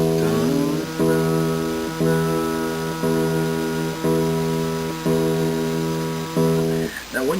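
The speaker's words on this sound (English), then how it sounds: "first of all, you just tune your E string." A guitar's low E string plucked repeatedly, about once a second, each note ringing steadily before the next pluck.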